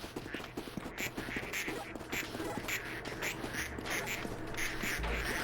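Ducks in a video game duck factory quack repeatedly in a busy, overlapping chatter with scattered clicks and footstep-like taps, steady throughout.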